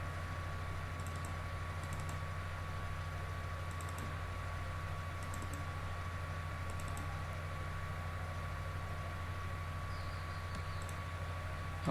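Soft, rapid keystrokes on a computer keyboard as a photo gallery name is typed, heard in a few short bursts over a constant electrical hum and low background noise, with no talking.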